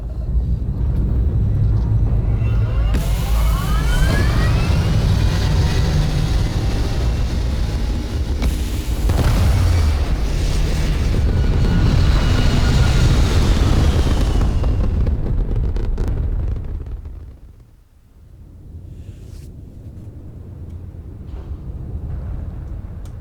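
A spaceship lifting off into space in Starfield, a loud roaring rumble with whooshing thrust that builds and swells for several seconds, then drops away suddenly into a quieter, distant hum.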